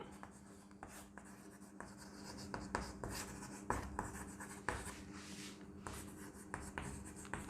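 Writing on a board during a physics lesson gives a series of quiet scratchy strokes and taps at an irregular rhythm over a faint steady hum.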